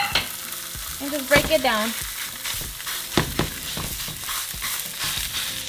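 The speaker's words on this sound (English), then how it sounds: "once your pan's hot, throw in your chorizo" Chorizo sizzles and fries in a hot frying pan while a spatula scrapes and breaks it up in repeated strokes, as a person talks over the cooking noise.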